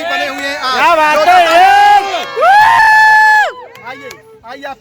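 A crowd at a network marketing event, with several loud voices shouting and calling out close by in bursts, separated by short lulls.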